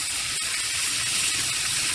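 Tilapia fillets coated in olive oil sizzle face down on a Blackstone griddle, a loud, continuous hiss that stays even throughout.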